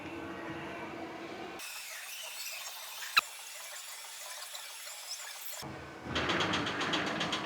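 A belt-driven lift mechanism on an amusement park ride at Shaheed Zia Park, Rajshahi, starts up with a high mechanical squeal and whine, one sharp clank partway through, then a louder rattling churn as it begins hauling upward.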